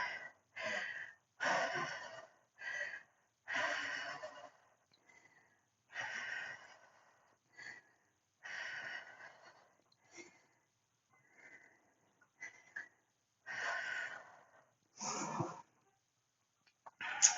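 Heavy, gasping breaths after a bodyweight workout, close to the microphone: a series of sharp, ragged exhales and sniffs in uneven bursts separated by short silences.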